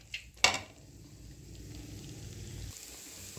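Masala spices fry in oil in a pan while chicken pieces and broad beans cook, a soft sizzle under a few utensil clinks and a sharp clatter near the start.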